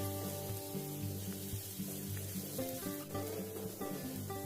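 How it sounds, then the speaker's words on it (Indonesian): Steady, soft sizzling of garlic and shallots stir-frying in a pan, with a low constant hum underneath and no talking. "Tumis sampai aromanya wangi dan warnanya kekuningan."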